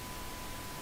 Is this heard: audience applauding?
no